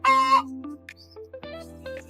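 Backyard chickens on a small rural plot give a few short, close clucks and drawn-out calls in a quiet setting, with no talking.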